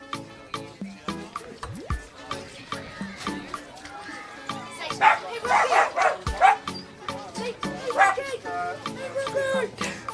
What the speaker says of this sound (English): Got 2 little sausage dogs putting their voice in the mix as well.